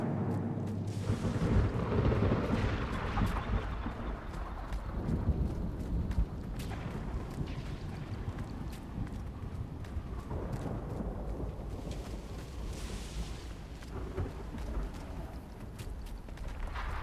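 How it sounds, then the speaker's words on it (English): Rumbling storm ambience in the Guild Wars 2 game world, a dense continuous roar of thunder and wind with deep low rumbles, steady and loud across the whole stretch, no voices. "Storm! It's right on top of us!"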